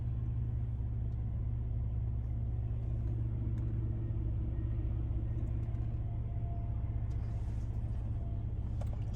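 A semi truck reversing to park, its engine a low, steady rumble idling at a distance for several seconds, with faint background noise and no talk.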